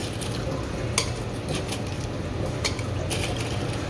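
Ice being scooped with a small spoon at a hotpot buffet gives scattered clinks and scrapes, a few sharper taps standing out over a steady busy restaurant background hum.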